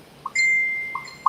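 A mobile phone notification goes off nearby: a brief soft blip, then a bright sustained electronic tone with a couple of short pings at the end, with no talking over it.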